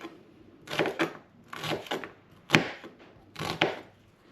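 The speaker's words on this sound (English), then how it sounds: "Gonna cut that up like so." A knife cuts shallots on a board in four separate bursts of quick chopping, each a short cluster of crisp taps with pauses between them, close and clear with no talking.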